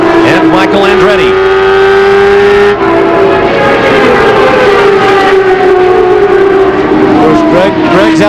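IndyCar race cars howl around the Milwaukee oval at the 1997 Milwaukee 200, a loud, continuous high-pitched engine whine with overlapping cars and pitch sweeps as they pass, under steady commentary.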